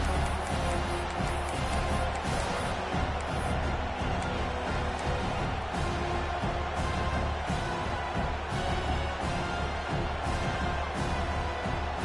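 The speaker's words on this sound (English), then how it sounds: "Listen to this crowd just shaking the girders of this place, trying to help their defense." Stadium crowd at a football game roaring continuously in a dense, distant wash of noise that swells slightly while the defense is on the field.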